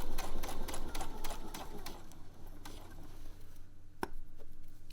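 A sewing machine runs in quick rattling bursts as it topstitches close to the edge of fabric for knickers, then slows and stops with a sharp final click, heard close and alone.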